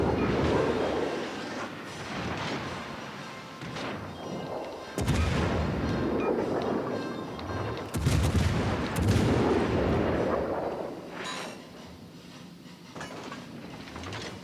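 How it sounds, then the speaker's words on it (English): Heavy naval gunfire from the battleship Bismarck in the World of Warships: Legends naval combat game, with deep booming salvos and rumbling impacts that recur over a continuous low roar of battle. "Oh, Bismarck is shooting at me."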